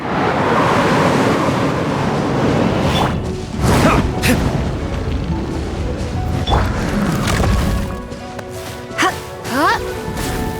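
Strong wind roars through a Genshin Impact game scene in a dense, steady rush with surging gusts and sharp whooshing bursts, while brief vocal sounds come through near the end.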